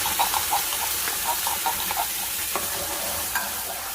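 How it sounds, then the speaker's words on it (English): Tomato sauce added to a pan with garlic powder and onion powder and stirred, giving a steady loud sizzle with repeated soft scraping strokes of the stirring, heard alone. "Now I'm gonna add in my tomato sauce."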